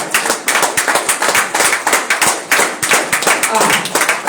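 A church congregation claps together in a steady, rhythmic round of loud applause, with voices mixed into the clapping.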